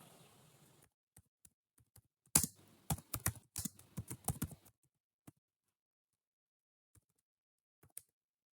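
Close computer keyboard typing while writing a C# console statement: a sparse run of key clicks, then a quick burst of clustered keystrokes, trailing off into a few isolated taps with near-silence between.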